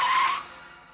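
A car rolling on its own with a short, loud tire skid that fades quickly, with no voices.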